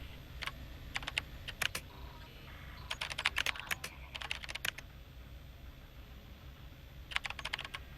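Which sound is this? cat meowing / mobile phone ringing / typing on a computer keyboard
typing on a computer keyboard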